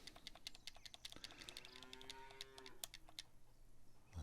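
Dairy cows in the farming game Farmer's Dynasty let out a long low moo with a drawn-out harmonic tone, while rapid keyboard clicks patter steadily throughout.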